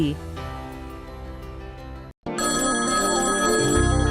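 A telephone ringing with a bright, tonal electronic ring over music, steady and loud, cut by a brief silence before resuming fuller with layered tones.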